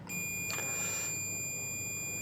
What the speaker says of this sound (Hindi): ये बीप आ रही है, ओके है।